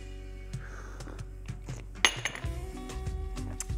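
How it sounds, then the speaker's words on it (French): A spoon clinks repeatedly against a cup while stirring a double espresso, giving light metallic taps that quicken toward the end, close and fairly quiet. "pensez à bien remuer votre double espresso"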